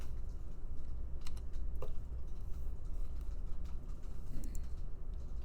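Steady typing on a computer keyboard, a continuous patter of quick light key clicks close by over a low hum, with no voices.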